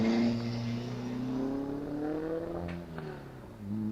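Riley Brooklands race car climbing a hill at Wiscombe Park Hillclimb, its engine note rising steadily and then easing off, close and fairly loud, no voices.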